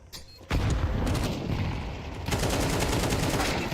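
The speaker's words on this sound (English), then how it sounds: "AK spamming away" AK rifle gunfire in Counter-Strike, a dense, sustained spray of rapid shots that starts abruptly and keeps hammering loudly, with a brief dip then a second burst of equally rapid fire.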